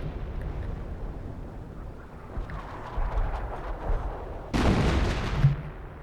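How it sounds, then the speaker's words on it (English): Artillery barrage landing in a Company of Heroes match on a forest map: a dull rumble builds over a few seconds, then a loud broadband blast erupts near the end, with low booming shell impacts. "Where's that artillery coming in? Good shot, but it doesn't quite land on target."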